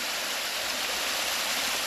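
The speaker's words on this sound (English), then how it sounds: "This is the little waterfall behind my house, as you all know by now." Steady rushing water from a small waterfall behind a house, a constant close hiss of falling water with no pauses and no voices.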